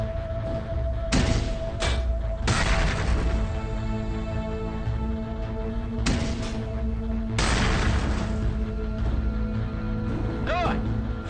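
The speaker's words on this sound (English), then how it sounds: "Now spit out a few grenades." Grenades launched from an armored suit in the game Cryptark, a handful of deep booming blasts spaced several seconds apart over a steady mechanical hum, each burst loud and punchy with a short crackling tail.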